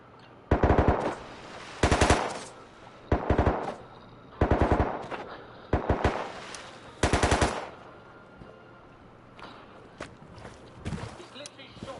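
Automatic gunfire in the video game Rust: about six loud, rapid bursts spaced a second or so apart, then scattered single shots and quieter rustling, with a player talking over it.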